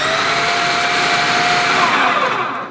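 A blender whirs while mixing Javanese spicy peanut paste with brown sugar, salt and tamarind, a loud steady motor whine held close for a few seconds before winding down.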